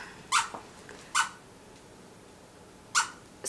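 A squeaky toy gives three or four short, sharp squeaks at uneven intervals, fairly close against a quiet indoor background.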